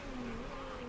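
A race car engine in the racing management game Motorsport Manager, holding a steady, loud revving drone for under a second with no voices.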